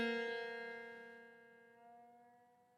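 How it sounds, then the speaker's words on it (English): A single plucked guitar B string rings out clearly and slowly decays, its tone steady with a slight warble as it settles toward pitch, alone with no talk. "I'm going to detune it real quick so you can hear it come into tune."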